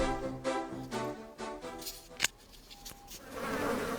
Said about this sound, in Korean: 웬 똥파리들